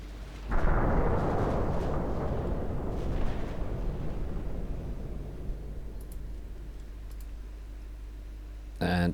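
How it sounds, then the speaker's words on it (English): Destroyer main guns firing armor-piercing shells in the naval strategy game Ultimate Admiral Dreadnoughts: a heavy boom opens, then a long rumbling roar slowly decays, with a second sharp blast near the end. "main guns on the DD. And you will fire AP."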